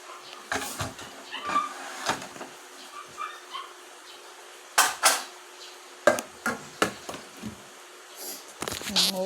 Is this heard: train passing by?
no